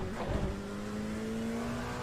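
Race car engine in the iRacing sim at Red Bull Ring drones steadily at high revs, its pitch climbing slowly through the stretch with no talk over it.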